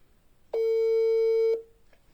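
A single steady telephone tone sounds for about a second while calling back a radio listener, clear and alone, then a faint short blip follows.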